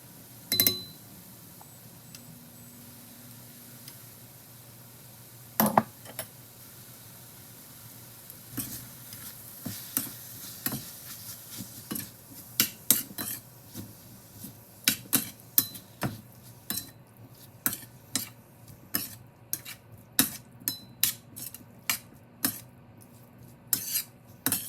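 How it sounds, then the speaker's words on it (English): Cubed chicken in melted butter in a skillet, seasoned with warming spices: a soft steady sizzle under repeated sharp clinks and scrapes of a utensil against the pan, growing busier toward the end. "Just start with some melted butter in the skillet and add cubed chicken"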